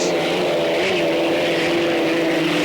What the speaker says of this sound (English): A Merlin engine for the Executone against the Griffin engine of the Budweiser.